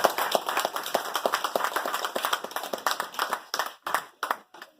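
An audience claps to welcome Diahann Gordon Harrison, the Children's Advocate of Jamaica, as guest speaker. The applause is a close, lively patter of hands that thins toward the end.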